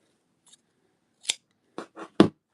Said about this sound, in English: Actually, we can cut them.